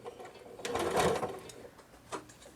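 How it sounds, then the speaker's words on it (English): A sewing machine stitching a San Diego quilt block along a drawn line, with a brief close burst of stitching that swells and fades, followed by a single click. "sew on the drawn line on both sides"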